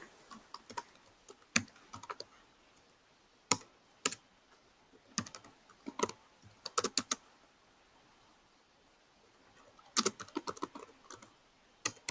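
Bursts of typing on a computer keyboard, clusters of quick clicks separated by pauses, close and fairly quiet with no voices.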